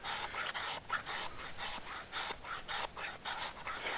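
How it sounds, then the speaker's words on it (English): A knife spine scrapes shavings off a ferrocerium rod in quick, rhythmic rasping strokes, about a dozen in four seconds, close and moderately quiet. "Remember not to scrape this fast enough to get sparks."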